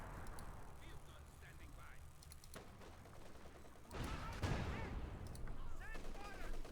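Machine gun fire in the WWII strategy game Company of Heroes 2, heard as dense crackling bursts mixed with explosions and battle noise that swell louder midway, with a commentator talking over the top.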